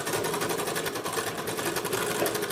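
A sewing machine runs a steady line of stitching along a blouse sleeve, a continuous fast rattling whir held at even loudness throughout with no speech.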